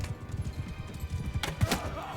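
A horse in Mount & Blade II: Bannerlord gallops in fast, rhythmic hoofbeats at moderate volume, followed near the end by a brief burst of sharper noise.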